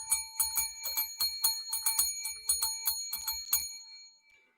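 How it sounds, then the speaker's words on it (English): A bell rung rapidly as a sound effect on a sports talk show, about fifteen bright metallic strikes in a quick steady rhythm, close and loud, then a ringing tail that fades out. "Hit the bell!"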